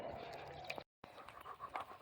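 Bo, an overweight Labrador, pants quickly and softly up close in a rapid breathy rhythm, broken by one brief silent gap before the panting resumes.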